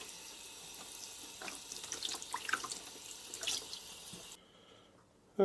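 A running water tap rinses a find pulled from a river, a steady hissing splash with small spattering bursts that suddenly drops away to quiet, then a sharp knock at the end.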